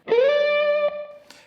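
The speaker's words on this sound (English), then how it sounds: "Now the second part of the lick finds us sliding up once again to the tonic on the 15th fret of the" Overdriven electric guitar slides up into a sustained tonic note at the 15th fret of the B string, the pitch gliding upward and then holding steady, followed by a quick re-pick, close and without voices.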